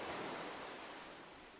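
Atlantic waves breaking on a freezing west-coast shore, a steady broadband wash of surf heard from a distance with no distinct individual crashes.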